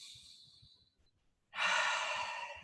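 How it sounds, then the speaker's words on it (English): A deep breath during a guided meditation: a soft, drawn-out inhale fades into a pause, then a long, strong exhale follows up close. "So just kind of take a deep breath."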